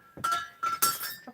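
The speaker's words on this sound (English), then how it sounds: "Dropping the lid." A lid drops onto a hard surface during craft work at a table, giving three quick clinking, glassy knocks close by, followed by a faint fourth tap.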